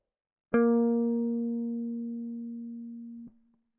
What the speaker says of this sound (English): And B flat, 4th finger, 8th fret, 4th string